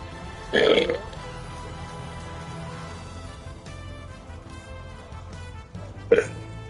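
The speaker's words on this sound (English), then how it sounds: "How come I keep starting almost every single live stream with a burp?" Two short, loud burps during a GigaBash live stream, one near the start and a sharper one near the end, with quiet game music in the background.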